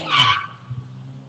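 A thief's car speeds away from a Rockford family's home after a package theft, with a loud, brief tire skid up front that fades into a low engine rumble, no voices.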